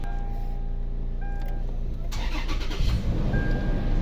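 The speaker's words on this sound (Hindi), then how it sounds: "फाइनली गाड़ी चालू हो चुका।" A Toyota Prado's engine cranks and catches near the end, settling into a close, steady idle after a stretch of low running hum.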